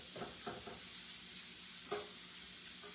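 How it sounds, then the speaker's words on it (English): Onions, bacon and smoked sausage fry in avocado oil in a pan, a steady close sizzle with a few scraping stirs breaking through the crackle. "So right now I've got onions and bacon in avocado oil, smoked sausage"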